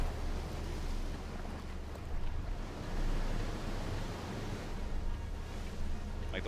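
Steady rushing and lapping of river water around a raft in the game Outer Wilds, a continuous broad wash with gentle swells and no voices.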